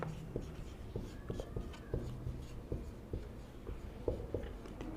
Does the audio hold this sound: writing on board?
yes